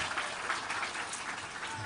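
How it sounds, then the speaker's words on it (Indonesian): Audience applause at a university forum with a presidential candidate in Indonesia, a steady, dense wash of many hands clapping close and loud for the whole stretch, with no pauses. "Tapi tepuk tangan dulu buat beliau nih Pak Mus"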